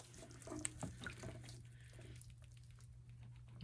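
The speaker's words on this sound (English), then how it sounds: "just going to rinse my hand off real quick" Tap water runs steadily into a sink while a hand is rinsed off during microgreen prep with coco coir, a low constant hum beneath a faint splashy wash, close by and without talk.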